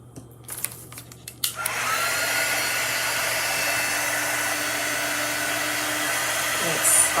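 A hair dryer blows on a freshly watercolor-painted tin jar lid, starting after a few light handling knocks and then running as a steady, loud, close whooshing whir that holds without a break to the end.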